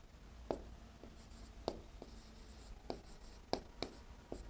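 Chalk taps and scrapes on a board in sharp, irregular strokes, several distinct clicks spaced across a few seconds, faint and close in a quiet room.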